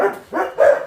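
Three short barks from dogs at home, including one named Scout, sounding close and fairly loud in a quick uneven sequence with a brief dip between them.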